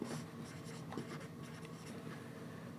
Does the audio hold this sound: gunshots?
no